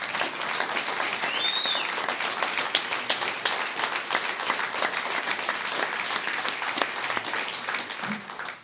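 Sustained applause from a crowd at a campaign event for a Lieutenant Governor candidate in Rapid City, a dense, steady wash of clapping lasting several seconds before fading at the end.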